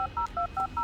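Phone keypad tones dial out in a quick steady run of five beeps, clean and close, as a phone call to Jess is placed in the Blair Witch video game.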